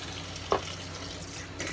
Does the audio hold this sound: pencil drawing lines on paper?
no